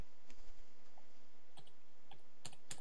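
A computer keyboard key is pressed repeatedly, producing scattered sharp clicks at an irregular pace that grow louder and denser toward the end over a faint background hum.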